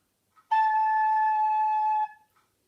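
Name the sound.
recorder playing note A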